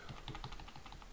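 Rapid keystrokes on a computer keyboard, a quick run of close, light clicks with an even rhythm and no talking, ending on a press of the enter key.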